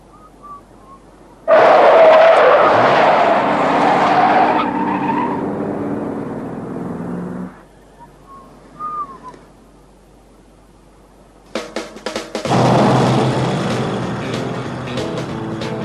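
A car lurches off and speeds away with tires skidding and squealing, the loud engine roar and screech dropping out then returning in a second burst of revving and tire noise; no talking.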